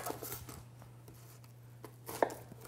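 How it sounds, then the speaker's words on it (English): A knife chops through the ends of a red onion on a cutting board, a few soft, separate cuts against a low steady hum. "Cut the ends off, then cut it in half."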